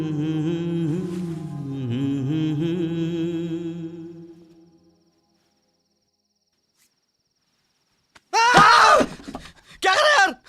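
A man screams in two loud, harsh bursts near the end, after a stretch of quiet that follows a long droning tone.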